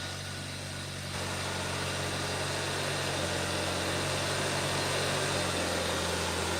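A Hyundai Sonata engine idles steadily after starting, a continuous low running hum with mechanical vibration, close and constant throughout, with no talking.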